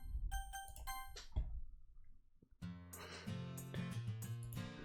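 School lunch bell chiming in the visual-novel game Doki Doki Literature Club, a bright bell-like tone sequence, then a short lull before a louder, sustained chime with layered ringing tones; no talking.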